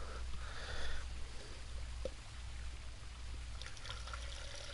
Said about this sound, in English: Got myself my gallon water. About to pour myself some into a cup.